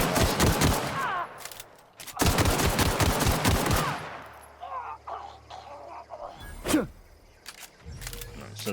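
Rapid bursts of pistol gunfire in the shooter game The Outer Worlds, two loud sustained volleys followed by quieter scattered shots and mechanical clicks, with someone talking over the action.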